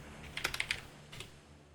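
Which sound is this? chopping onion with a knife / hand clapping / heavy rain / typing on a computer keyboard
typing on a computer keyboard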